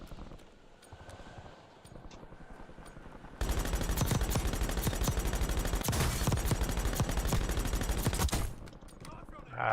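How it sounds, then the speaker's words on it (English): Pistol fire in Call of Duty Warzone starts as a few sharp shots, then erupts into a loud, continuous barrage of gunfire for several seconds before cutting off. "That's a pretty good pistol right there."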